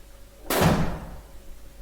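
A door closing in the horror game The Suicide of Rachel Foster, one sudden loud slam that decays over about half a second into a quiet room tone, with no voices.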